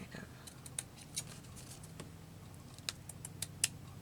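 Scissors snip paper for a Little House on the Prairie junk journal page: a handful of short, sharp cuts at uneven intervals, fairly quiet over a low room hum.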